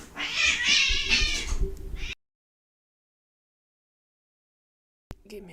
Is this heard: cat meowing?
yes